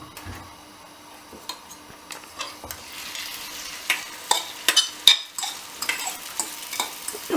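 Omelette mixture frying in a hot pan, with a steady sizzle and scattered sharp clicks and scrapes of stirring that grow louder and busier toward the end, with no voices.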